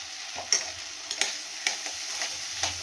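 Masala with sour yogurt and Kashmiri chili sautéing in white oil, with a soft sizzle under a series of light scraping stir strokes at an irregular rhythm, close and moderately loud, with no talk.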